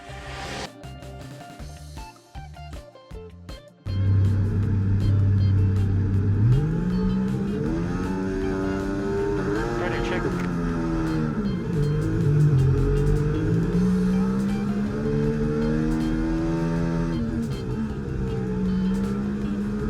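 An F1 car engine from the F1 24 video game revs on the formation lap, first with short blips, then a loud sustained howl rising and falling through the gears, continuous and close.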